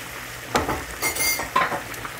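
Asparagus shifting in a pan of melting butter, with soft sizzling and a few scraping stirs and metallic clinks of a utensil against the pan, close by.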